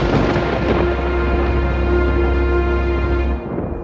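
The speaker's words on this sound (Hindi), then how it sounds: "देखिए, बाहर मेघ गरजने लगे हैं" Low thunder rumbles steadily outside, a deep continuous roll that holds for over three seconds with a faint steady tone above it, then eases off near the end.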